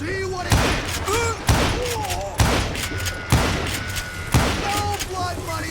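Gunfire in the Western video game Call of Juarez: Gunslinger comes as a string of loud, punchy shots roughly a second apart, layered with game music and voices.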